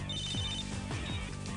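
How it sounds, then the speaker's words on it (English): A phone rings, a faint warbling ring tone partly buried under a dense, loud bed of droning sound that runs throughout. "And then your phone rings."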